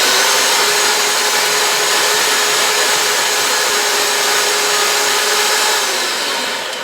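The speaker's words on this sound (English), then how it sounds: "now I'm going to get my mixer on high, and I want to get some really good stiff peaks going on" An electric mixer runs on high speed whipping frosting to stiff peaks for a chocolate cake, a loud, continuous motorized whir that holds steady throughout and eases off slightly at the very end.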